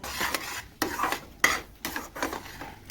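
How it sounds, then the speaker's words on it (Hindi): Mawa (khoya) roasting in ghee in a pan, stirred with a spoon that gives soft repeated scrapes and rubs against the metal over a faint sizzle, close up with no talk. "मावा भी हमारा भून के रेडी हो ही रहा है"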